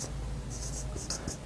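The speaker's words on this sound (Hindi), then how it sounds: "तो अब हम यहाँ लिखेंगे" Marker or chalk writing on a board during a trigonometry lecture: a few short, quiet squeaky strokes in quick succession over a low room hum, with no talking.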